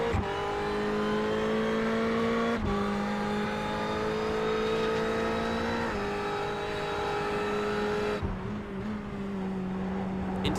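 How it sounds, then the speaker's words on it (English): A race car engine in the iRacing sim at Donington runs loud and steady, gradually rising in pitch as it accelerates, with brief dips at gear changes and no talk over it. "Ease the car in and then step on the power gently."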